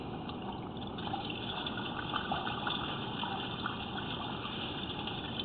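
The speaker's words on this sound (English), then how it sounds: "we flushed the toilet and shut off the kitchen sink here" Water from a flushed toilet rushes steadily through a house drain pipe, a continuous muffled gushing flow with no pauses.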